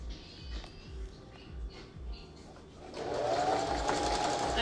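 A sewing machine runs at a steady zigzag stitch, sewing a face mask; its needle thumps rhythmically up close, then a denser whirring run takes over after a brief start-and-stop.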